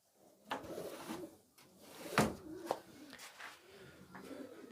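Domestic pigeons coo softly in a loft, low murmuring calls spread through the clip with a few sharper knocks and rustles nearby, fairly quiet overall.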